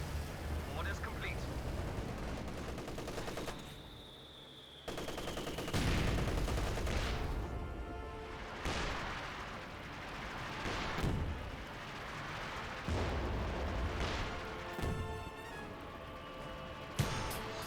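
Rolling battle noise from the Company of Heroes 2 video game: bursts of gunfire and heavy artillery booms over a constant rumble, with repeated loud impacts spaced every few seconds, and a voice talking over the fighting.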